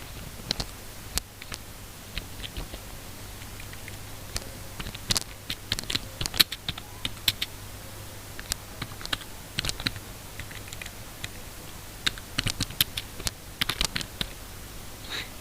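Someone types on a computer keyboard while filling out an online application for a digital voter card, a close, steady run of clicking keystrokes with short pauses and no talking.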